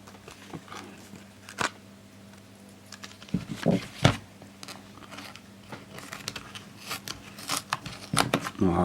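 A knife cuts and slices open a package with a series of sharp, scattered crackles and scrapes against plastic and cardboard, close and fairly quiet over steady background hum.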